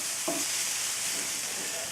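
Dry bacon poblano vegan patty mix is stirred around in a pan with a steady frying hiss, a spoon scraping through it near and moderately loud, with no talking.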